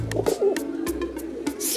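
Pigeons coo in soft, repeated low calls, close and clear, with a few brighter chirps and rustles mixed in.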